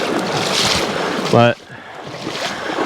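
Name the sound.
fast river current flowing around a boat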